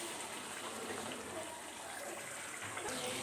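Water poured into a pot of beef curry gives a steady, close splashing gush that continues throughout with a slight surge near the end.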